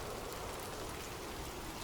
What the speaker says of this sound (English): The sound of abundant rain.